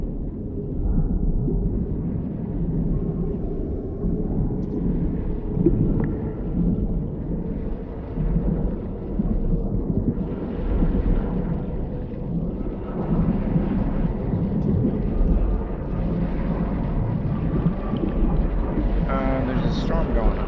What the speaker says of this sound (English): There's a storm going on.